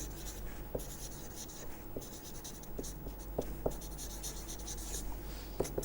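Writing on a board during a math lecture: steady scratchy strokes with occasional taps as the writing implement meets the surface, close and continuous, with no speech.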